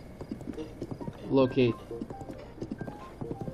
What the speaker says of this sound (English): the one-handed steering of this horse, who doesn't want to go in the direction I want him to